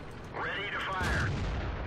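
A tank cannon firing in World of Tanks, a single sharp report followed by a rolling, ringing echo at close range, a voice talking briefly around it.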